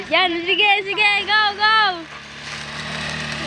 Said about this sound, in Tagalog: May mini grass cutter si Baba.